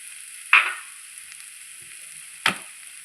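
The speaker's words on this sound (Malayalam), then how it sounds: "ഇനി ഇതിലേക്ക് നമുക്ക് പച്ച വെളിച്ചെണ്ണയും കറിവേപ്പിലയും ഇട്ട് കൊടുക്കാം." Curry leaves and raw coconut oil hit a hot pan of Thiruvananthapuram-style chicken thoran, giving two sharp sizzling bursts that fade quickly over a quiet hiss, close and clear with no talk.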